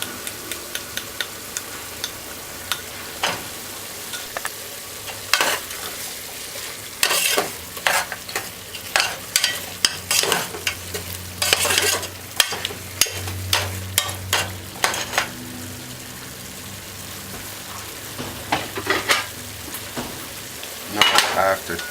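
Stew peas with browning and seasoning cook in a pot, giving a steady low sizzle broken by scattered clinks and scrapes of stirring and utensils against the pot, close and fairly loud.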